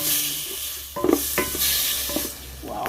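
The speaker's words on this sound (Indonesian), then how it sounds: "Mari kita goreng dulu." Bitter vegetables frying in a pan, with a soft steady sizzle broken by a few stirring scrapes and clinks of a utensil against the pan.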